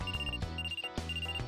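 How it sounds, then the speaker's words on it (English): A cell phone in the video game Trauma Center rings with a steady repeating electronic trill over a low droning musical background, two ringing bursts in quick succession. "Oh, my cell phone."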